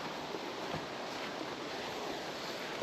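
A waterfall at the bottom of a gorge roars as a dense, steady broadband wash of falling water, close and loud and unbroken.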